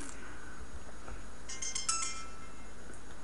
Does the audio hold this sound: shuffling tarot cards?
no